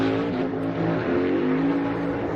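A NASCAR Cup race car at qualifying for the 2022 Wise Power 400 roars loudly and steadily under throttle, its engine note holding a sustained, slightly rising whine with no talk over it.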